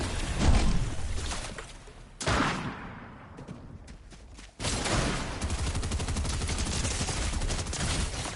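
Gunfire in Fortnite: loud bursts of rapid automatic shots, cutting off abruptly into a brief near-silent lull and then resuming as a sustained, steady barrage at close range.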